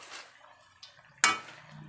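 A utensil stirs pork adobo with potato in a pan, giving soft scrapes and a couple of light taps before one sharp, bright metallic clink, close and quiet.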